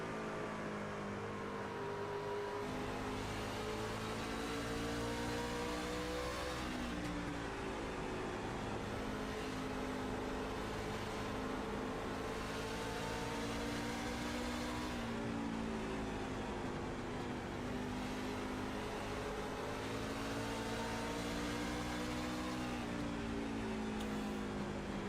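Race truck engine on the short Bristol oval, a continuous loud onboard drone whose pitch dips and climbs repeatedly as it lifts through the corners and drives off them, with no break.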